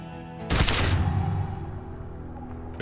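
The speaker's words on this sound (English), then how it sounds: "A plume of smoke and fire erupts from the gun, and your hand goes numb from the explosion." A single loud gunshot from a gun in the video game Disco Elysium cracks out abruptly, then rings and fades slowly over a low sustained game drone.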